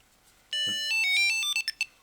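A T-Mobile Tile tracker plays its finding chime, a bright electronic melody of stepped tones, loud and close, ending in a few short blips.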